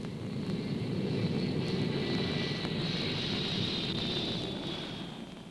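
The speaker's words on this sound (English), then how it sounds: "Lookingglass missions are flown from Offutt Air Force Base by EC-135C jet stratotankers" An EC-135C jet stratotanker flies overhead near Offutt Air Force Base, a loud, continuous jet roar with a sustained high whine that swells and then slowly fades over several seconds.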